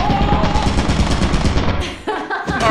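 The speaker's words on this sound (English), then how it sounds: "That's a gun." Gunfire in the video game Lethal Company, a dense rapid burst of loud shots running nearly continuously, then briefly cutting out before resuming near the end.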